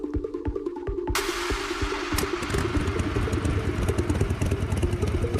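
A motorcycle rides up and parks, its engine putting in a steady mid-pitched rhythmic idle, with a rougher, louder rumble and clatter after a second or so, continuing close and alone.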